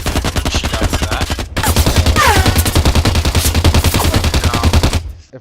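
Rapid bursts of automatic gunfire from a video game, a dense rattling stream of shots that breaks off briefly near the start, then resumes and runs on before cutting out.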